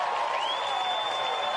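A football crowd at McKellar Park roars and cheers after a goal, a dense, steady wash of noise with a rising whistle-like tone running through it.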